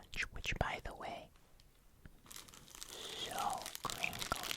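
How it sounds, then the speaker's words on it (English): A Crunch candy bar wrapper crinkles and crackles close up in short bursts, with a soft whispering voice in the pauses between. "This is my favorite crinkle. So crinkly, crinkly."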